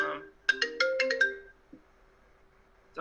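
A phone ringtone goes off mid-conference as a mother calls, a bright run of rapid electronic tones over a steady hum for about a second, then fading into room quiet.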